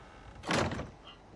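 A door in the video game Fallout 4 slides open with one whooshing, hissing swell lasting about half a second, trailed by a faint mechanical tone, moderately quiet against low background hum.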